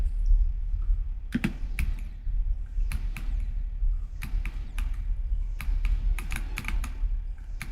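Computer keyboard keys clatter in uneven bursts of quick clicks with short pauses, close and fairly loud over a low steady hum, with no voices.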